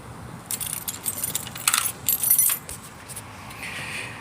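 Keys jangle and clink in bursts while being turned to switch on a Harley-Davidson Street 750 motorcycle, fairly close and alone, with a quieter hum trailing off at the end.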